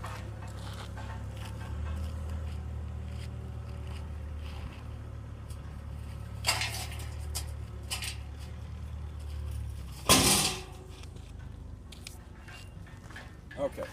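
A steel frame chassis from a 2003–2006 Jeep Wrangler TJ being turned over by hand, with a low rumbling drone throughout, a brief clatter at mid-clip and one loud metallic bang near the end.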